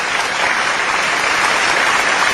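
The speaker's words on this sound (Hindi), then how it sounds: "तो मैं चाहता हूं कि एक बार जोरदार तालियों से आप आजम शाकरी का स्वागत कीजिए" Loud, dense audience applause welcoming a poet on stage at a Hindi-Urdu poetry gathering, a steady roar of many hands clapping without pause.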